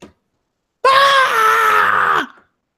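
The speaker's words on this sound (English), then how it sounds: "Screaming." One long, loud human scream, close and drawn out for over a second, pitch sliding downward as it fades, voiced in character for a terrified creature during a tabletop role-playing game.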